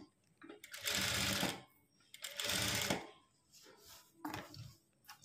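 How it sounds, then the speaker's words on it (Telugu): A sewing machine hems or top-stitches cloth in two loud bursts of rapid mechanical whirring and clatter, separated by pauses, with softer shorter runs toward the end. "మిషన్ తోటి హెమ్మింగ్ కూడా చేసుకోవచ్చు మనం."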